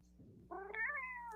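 A cat gives one clear drawn-out meow over a low steady hum, preceded by a faint brief rustle, with no talking.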